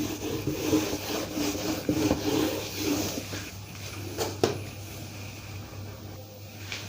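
A duster rubs writing off a classroom board with repeated scraping strokes, close and moderately loud, with a couple of sharper knocks near the end.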